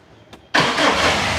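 A car engine starts up: a brief click, then the engine catches abruptly and roars into a loud, steady running note.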